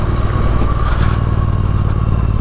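A Triumph Street Twin motorcycle rides through dense fog at night, its steady engine drone and low rumble loud and close, joined by wind and a little rattling clatter, with no speech.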